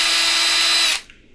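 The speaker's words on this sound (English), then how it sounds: "I'm just going to chuck it up in my drill and just go real slow in the blade and try to just make a little small chamfer" A handheld drill spins steadily as it chamfers a hole in a knife blade, giving a loud, close, high-pitched whine that stops abruptly after about a second and winds down quietly.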